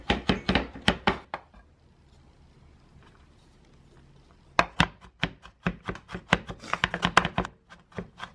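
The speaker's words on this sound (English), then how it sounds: "Chop this garlic, chop" A knife chops garlic on a cutting board in quick rapid bursts of sharp, close knocks. A flurry at the start is followed by a quiet pause, then faster, denser chopping near the end.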